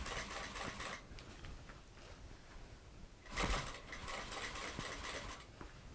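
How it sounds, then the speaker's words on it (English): Sewing machine top stitching a backpack seam, a fast rattling mechanical whir that runs steadily, pauses briefly, then resumes in a louder burst, close and alone. "For top stitching that second seam, you can see that I'm starting from the bottom here and just working my way up."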